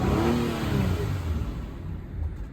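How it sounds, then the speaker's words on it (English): A car engine, one that has thrown fault codes on the dash, revs under throttle with a rough mid-pitched roar that rises and wavers, close and fairly loud, with no talk over it. "Try to give it some gas"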